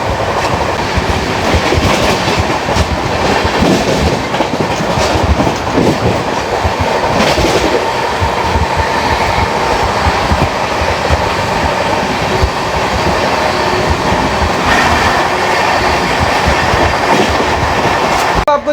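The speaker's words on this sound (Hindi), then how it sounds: "अभी कुछ ही समय में हम लोग पलवल स्किप करने वाले हैं फ्लैट 130 में।" Express train running flat out at 130 km/h through Palwal station, a loud, continuous roar of wheels with rhythmic clickety-clack over rail joints and occasional squeals, heard close from on board.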